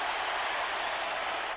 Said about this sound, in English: Crowd really noisy right now.